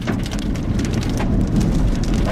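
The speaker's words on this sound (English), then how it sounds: "I get a little bit of small hail in here, yep." Small hail and rain drum steadily and loudly on a storm chasers' car beneath a supercell in southwest Kansas, a dense, continuous patter with no voices.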